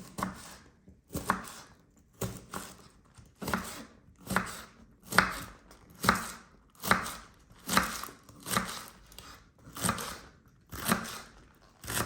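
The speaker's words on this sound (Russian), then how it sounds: "для начала я измельчу зеленый лучок" A knife chops green onions on a board in a steady rhythm of about fifteen crisp, evenly spaced strokes, close and clear with no talking.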